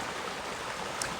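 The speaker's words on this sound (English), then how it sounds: "I'm going to leave you then with a shot of the river" River flowing in rural Japan, a steady broadband rush of moving water, constant and fairly close, with no voices.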